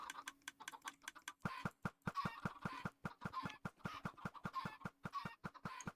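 Chickens cluck in a Minecraft-style game world, Kemuri Craft, a rapid run of short sharp clucks and clicks repeating over several seconds, fairly loud and without talk.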